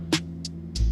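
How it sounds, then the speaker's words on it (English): A Gamma Instinct electric shaver works over stubble while a haircut is being finished, giving a steady low motor hum broken by three short hissy bursts of contact, close and without speech. "I'm gonna go over the stubble with the Gamma"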